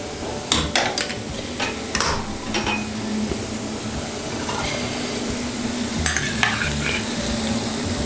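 Sour yogurt is stirred into hilsa biryani cooking in a pan, a steady close sizzle of frying under scattered scraping clinks of the spoon against the pot, with no voices.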